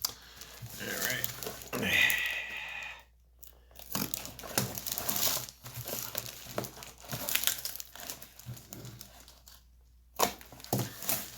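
A G1 Megatron toy package is cut open and unwrapped, giving close, quiet crinkling, rustling and tearing of packaging in uneven bursts, with someone speaking briefly.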